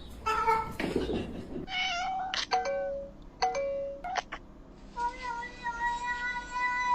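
Several cat meows in a row, clear and close, some short and some drawn out, with a rustling burst near the start and quiet room sound between calls.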